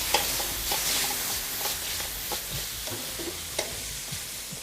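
Spring onion and capsicum fry in a hot pan with a steady, loud sizzle, broken by irregular scraping clicks of a utensil stirring the vegetables.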